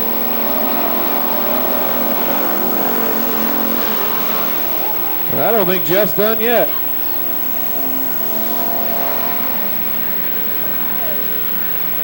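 Race cars roar past on the oval at Billings Motorsports Park, a loud engine drone rising and falling with a sharp close pass in the middle, under an announcer's running commentary.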